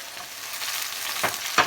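Mushrooms fry in oil in a pan for a pasta dish, giving a steady close sizzle with two brief louder crackles or stirring scrapes near the end.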